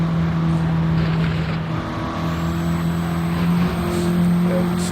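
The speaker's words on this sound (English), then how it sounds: "Group 4 racing car" A Group 4 racing car in a racing video game holds a steady, droning engine note with sustained tonal hum and slight shifts in pitch, heard alone without talk.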